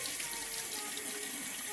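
Water runs steadily from a village tap in Villemer while hands are rubbed and washed beneath it, a continuous close splashing hiss with no speech.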